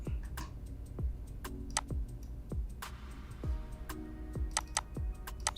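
Computer keyboard typing out a new folder name, a run of crisp separate keystrokes with sharp clicks at an uneven steady pace, close and clear, no talk.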